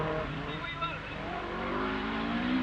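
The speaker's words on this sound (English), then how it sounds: "he just skirts it, flings the car into the right-hander. Foot hard down." Rally car driven flat out at the 1981 Esgair Dafydd Rallysprint, its engine roaring steadily and loudly throughout with rising tone, a commentator talking over it.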